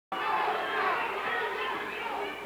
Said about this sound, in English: They're all chanting Cooper.